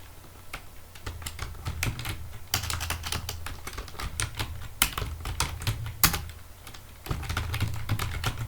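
Steady typing on a computer keyboard, with irregular bursts of sharp key clicks and a few louder strikes standing out, close and fairly quiet, with no voices.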